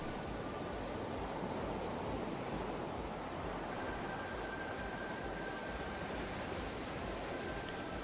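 Ocean waves and wind in the video game Perfect Tides, a steady, broad wash of surf and gusting air that holds an even loudness throughout, with a faint thin tone running through the second half.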